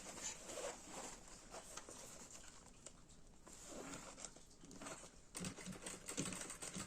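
A sewing machine runs a straight stitch along the edge of a zippered box-style toiletry pouch, a steady close mechanical patter of needle strokes with brief pauses and restarts.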